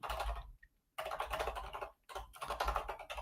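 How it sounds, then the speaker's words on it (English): Steady rapid typing on a computer keyboard, close and clear, in three bursts of clattering keystrokes separated by short pauses, with no one talking. "you can tell that I'm the one who's really typing right now"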